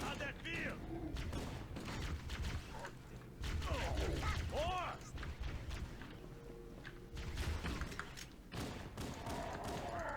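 Gunfire in the video game Halo: Combat Evolved, scattered shots and bursts mixed with mechanical clatter, whooshing effects and thuds, fairly quiet overall, with voices talking over it in places.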